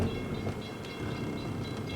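A passing train, heard as a steady, loud rumble with faint rhythmic clatter of wheels on rails, continuous and fairly close throughout, no talking.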